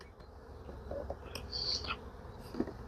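Honey bees buzz faintly around an open hive frame during cleanup, a soft, wavering drone with brief louder passes of single bees close by.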